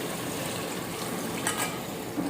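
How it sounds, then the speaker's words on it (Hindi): Water gushes steadily from a glass into a pot of browned mutton and tomatoes for yakhni pulao, a continuous close pouring rush with no speech. "अब इसमें ऐड करेंगे 2 गिलास पानी यानी कि वाटर"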